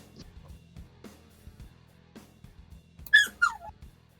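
A puppy gives two high, sliding whimpering squeals close by near the end, after a stretch of faint thumps and quiet background.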